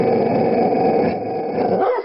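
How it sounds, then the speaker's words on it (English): A low, sustained dog growl rumbles steadily for about two seconds as a story sound effect for a three-headed dog, loud and band-limited, with no talking. "he let out a triple growl that rattled the pot like an earthquake"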